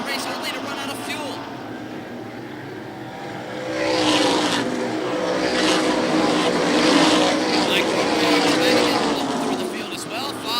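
Super modified race cars roar around an oval track at night, their engines droning and swelling louder as the pack passes, while a commentator talks over the noise.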